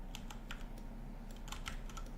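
A computer keyboard and mouse in use while selecting objects, giving a faint, close run of light clicks and taps at an uneven pace over a low steady hum, with no voices.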